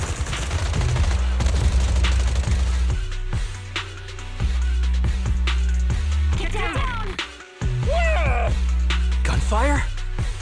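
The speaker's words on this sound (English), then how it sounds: "Gunfire? This pattern. Suppressive marching fire." Bursts of rapid gunfire in the video game Zenless Zone Zero, loud and dense over a droning low soundtrack, with a brief silent drop and then a return, while a voice speaks.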